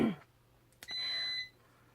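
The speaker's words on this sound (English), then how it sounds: "It's been beeping this morning." Electronic beeping from a Fios cable box at home: a short click, then a single steady high tone lasting about half a second, fairly faint against a quiet room with a low hum.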